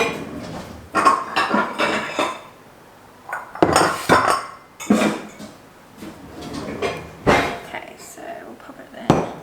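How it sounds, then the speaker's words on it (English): Bowls and dishes are lifted out and set down in a home kitchen during food prep, with clinks, knocks and cupboard sounds in bursts, fairly close and loud, and a voice speaking quietly between them. "Alright, so let's get a bowl out."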